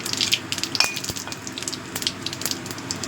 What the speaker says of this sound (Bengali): তেলটা ভালো মতো গরম হয়ে গেছে, এবার আমি দিয়ে দিচ্ছি গোটা জিরে, একটা তেজপাতা